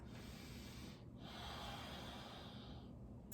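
A deep breath in a yoga class, a long, quiet, airy inhale drawn close after a short pause, faint and steady with no talk.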